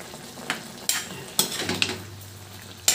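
Pork adobo with saba banana bubbling in a pot, a soft steady simmer broken by a few light clinks and stirring taps, close and with no talk.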